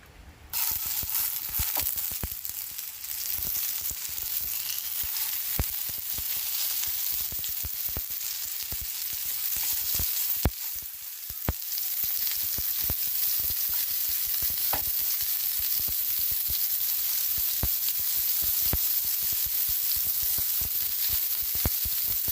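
Chicken kababs frying in oil on a dosa tawa give a steady, dense sizzle and hiss throughout, with scattered sharp pops and crackles and occasional utensil clinks, close and fairly loud with no voices.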